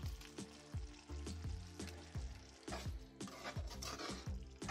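Oil sizzling and crackling in a hot pan, with repeated bursts of spattering as okra fries, no voices.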